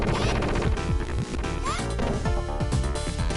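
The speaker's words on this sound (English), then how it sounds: "Mr. X goes down, shattering a load of bullet clips on the ground while we defeat him" Streets of Rage 2 boss fight as Mr. X is defeated: dense, loud game audio with repeated smashing hits and shattering clatter of bullet clips over driving music, continuous throughout.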